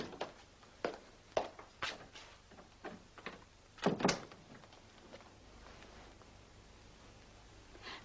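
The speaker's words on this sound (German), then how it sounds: "Schließen Sie die Tür." A door swings shut in a period interior, marked by a loud clustered knock and latch, preceded by several sharp creaks and footstep-like taps, then a faint shuffling tail with no talking.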